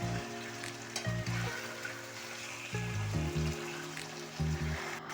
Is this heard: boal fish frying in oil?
yes